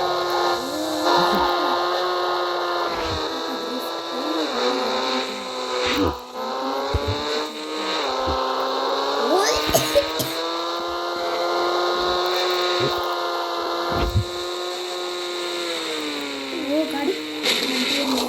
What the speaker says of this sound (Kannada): ಒಂಥರ ಇಂಡಿಯನ್ ಬೈಕ್ ಡ್ರೈವಿಂಗ್ ಥರ ಐತೆ ಇದು ಸೌಂಡು